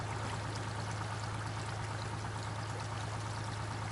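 A water wheel turns in water in Snowrunner, giving a steady, fairly quiet rush of pouring and splashing water with a low constant hum underneath, continuous and alone.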